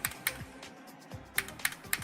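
A handful of scattered, crisp key clicks on a computer keyboard, close and fairly quiet, in two small clusters separated by a short pause, with no speech.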